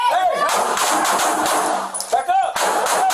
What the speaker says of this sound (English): It shows 3 officers open fire at Pettis early Friday morning at an apartment in the 6200 block of Old Pearsall Road